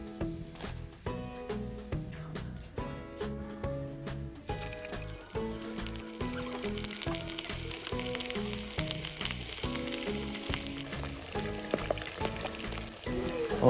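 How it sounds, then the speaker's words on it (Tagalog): Pork liver sizzles and crackles steadily in hot cooking oil in a pan, a dense, continuous frying hiss with overlapping pops and music playing alongside. "babawasan muna natin yung ating mantika at saka natin piprituhin yung ating atay"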